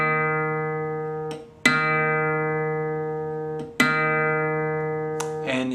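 The fourth string of a guitar, tuned to D sharp, is plucked repeatedly, each bright attack ringing and fading for a couple of seconds, close and alone, no voices.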